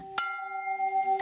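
A single rusty church bell at a Korean Catholic pilgrimage site rings, one sharp strike followed by a sustained, ringing metallic tone that slowly decays.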